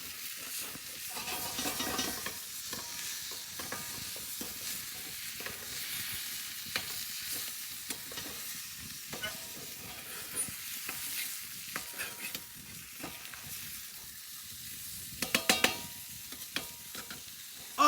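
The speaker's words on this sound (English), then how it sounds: "And then we can slap our big piece of meat right there" Steak sizzling in a pan over hot coals on a campfire, a soft continuous frying hiss with scattered crackles and pops, growing a few sharper spits near the end.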